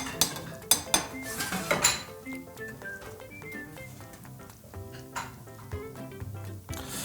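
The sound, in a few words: scooping rice into a bowl with a utensil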